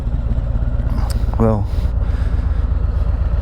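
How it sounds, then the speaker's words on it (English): Road King motorcycle engine rumbling steadily at idle, a low continuous drone close by, with a brief spoken word over it. "If you hear something rumbling back there, that would be my Road King."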